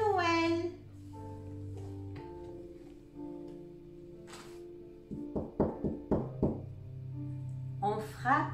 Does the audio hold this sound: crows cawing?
no